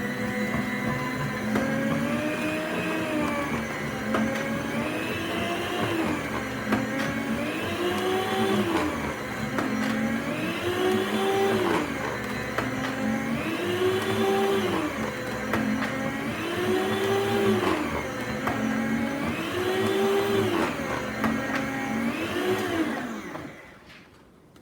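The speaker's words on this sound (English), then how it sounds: "we're going to throw this on the slicer and we'll be right back" A deli meat slicer cuts roast beef in a loud, close, rhythmic motor whir. About nine even strokes rise and fall in pitch, each a few seconds long, then the machine winds down and stops.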